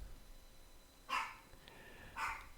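A dog gives two short, sharp barks about a second apart, fairly distant and faint over a quiet room hiss.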